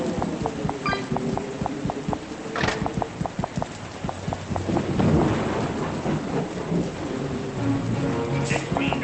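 A stormy downpour with thunder rumbles in the FNAF VR Help Wanted game, rain hissing steadily under deep rolling swells and a rapid run of ticking clicks, with voice-like sounds in the mix.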